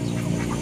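Ducks on a farm give a short, loud burst of quacking, close by and alone with no talk.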